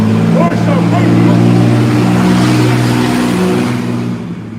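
A car engine revs hard and loud up close with a deep, steady drone. It holds strong for several seconds and then fades slightly toward the end.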